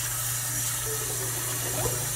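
Tap water runs steadily into a sink for wetting the face between passes of a wet shave with Abbate y La Mantia Don Jose shaving soap, a continuous close hiss with low hum and no talk.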